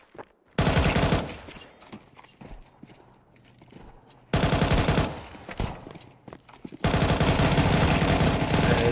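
Galil rifle fire in a competitive Counter-Strike match, with three loud, dense automatic bursts: a short one early, another midway and a sustained one at the end. Quieter game ambience fills the gaps.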